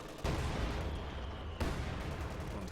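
Artillery barrage from 120mm mortars in Company of Heroes 2, a steady low rumble of shell impacts and blasts with a sharp fresh burst midway, dense and continuous rather than separated hits.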